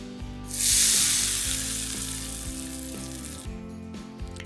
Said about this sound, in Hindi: अब इस तड़के को डाल देंगे हम मैरिनेशन में